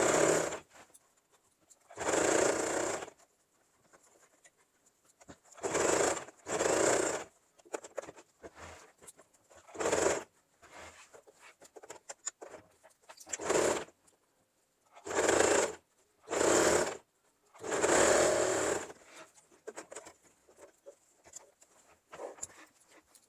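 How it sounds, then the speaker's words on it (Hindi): A sewing machine stitches a zipper onto a lehenga in repeated bursts of a few seconds each, separated by pauses. The machine sounds close and steady, with no talking. "तो इस तरह से हम इसमें सिलाई चलाएंगे"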